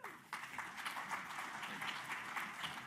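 Audience at a SWOG cancer research group meeting plenary session applauds steadily as a speaker is welcomed to the podium, a dense, sustained clapping filling the hall from near and far.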